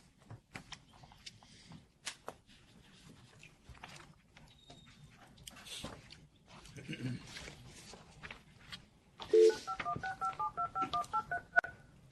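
Touch-tone telephone keypad dialed at a meeting, a quick run of about ten distinct DTMF beeps near the end, following background room noise, shuffling and scattered knocks.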